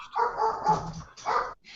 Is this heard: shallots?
no